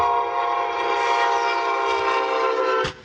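A Brightline high-speed train blasts its horn at a railroad crossing in a sustained, loud, chord-like tone that holds for nearly three seconds before cutting off abruptly.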